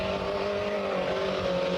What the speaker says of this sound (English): Eddie Marouk from Cork in his 1600 Sunbeam